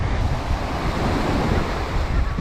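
Sea waves washing onto a Havana beach in Cuba, a loud continuous roar of surf with heavy wind buffeting the microphone throughout.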